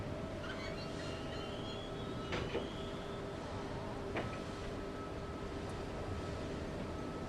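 Heavy mechanical door opening in the video game Tomb Raider 2, a long steady grinding rumble with a few clanks and a brief high scrape, faint and continuous.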